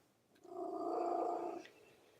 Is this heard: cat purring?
yes